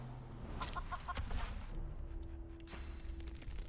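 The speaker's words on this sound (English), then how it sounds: "Chicken form." A chicken in the video game Divinity Original Sin 2 clucks in a quick burst of several short, close clucks, followed by a softer stretch of game ambience and another brief cluck near the end.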